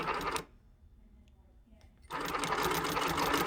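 A home sewing machine making small starting stitches, ruler held against the fabric: a dense, fast, steady mechanical whir that runs, pauses briefly for a quiet gap, then resumes louder and continuous.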